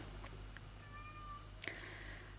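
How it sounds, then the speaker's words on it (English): A cat named Minky meows unhappily, a brief rising cry near the middle of the clip followed by a sharper, louder yowl toward the end, set against a steady low background hum. "Yes, Minky, we understand. You're not a happy cat today."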